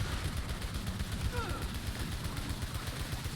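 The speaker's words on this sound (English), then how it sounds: "I kind of want to see if my armor-piercing bullets will kill this thing over here." Gunfire in the sci-fi shooter Returnal as armor-piercing bullets are fired, a steady rapid stream of shots rattling continuously underneath game sounds for the whole stretch.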